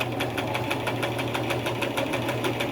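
A sewing machine runs steadily at close range, its needle stitching in a fast, even rhythm with a constant motor hum as it feeds fabric through while a pillow is sewn.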